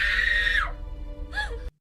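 A younger sibling in a drama screams, a long high piercing cry that breaks off, then a second shorter anguished scream after a brief pause, close and loud.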